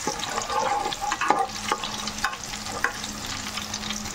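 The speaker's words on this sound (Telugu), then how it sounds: "ఇవి చక్కగా వేగనివ్వాలి." Cardamom and cloves frying in a pan of oil for fish pickle, a steady close sizzle with occasional stirring scrapes and small crackles, continuous and fairly loud with no voices.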